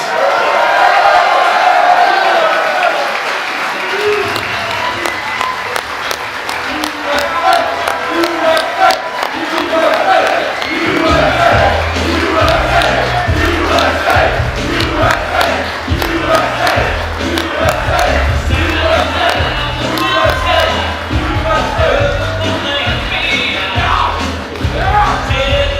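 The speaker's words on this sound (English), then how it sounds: "Let's all give a big round of applause in welcoming and greeting our Vice President of the United States, J.D. Vance" A large crowd at a political rally in Oakland County, Michigan, loudly cheers, yells and applauds in welcome of Vice President J.D. Vance, a continuous roar that builds and stays strong throughout.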